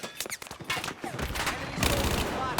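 Rapid bursts of gunfire from the video game Battlefield 4, sharp crackling shots in quick clusters mixed with explosions and in-game noise, dense and continuous across the moment.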